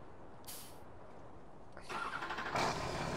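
Video game car engine heard faintly, with brief hissing bursts and then a louder rising engine sound building toward the end, no talking.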